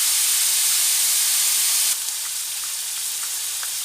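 Nile perch fries in a pot with a loud, steady sizzling hiss that drops slightly in level partway through and continues without talk.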